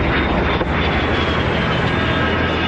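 A military jet in flight gives a loud, steady, broadband roar that holds unbroken for the whole stretch, with no voices over it.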